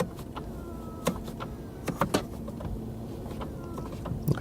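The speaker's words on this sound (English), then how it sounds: "The steering wheel, you adjust it electrically here," A quiet electric motor hums as the steering column of a 2019 Mercedes G350d adjusts for reach and height, a steady low whir inside the cabin broken by a few soft clicks and taps.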